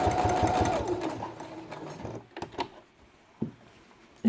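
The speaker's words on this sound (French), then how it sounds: "Et on va les coudre au point droit sur la machine." Straight-stitching a felt patch for a quiet book, a sewing machine hums loud and steady for about two seconds, then stops, leaving a few faint clicks and handling knocks.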